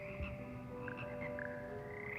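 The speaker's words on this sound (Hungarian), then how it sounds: "A béka kórus." A frog chorus in the video game Hogwarts Legacy keeps up a soft, steady croaking over a constant tonal background hum, with repeated short chirps and no voices.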